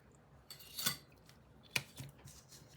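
Scissors cutting through a paper book page to trim away bulk: a few crisp, close snips, the two sharpest about a second apart, with quiet gaps and no voices.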